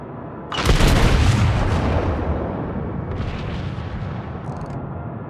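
In the World of Warships video game, an enemy ship's naval guns fire at a US Colorado battleship: one loud, deep boom that rolls off into a long rumbling decay, with fainter distant crackles following.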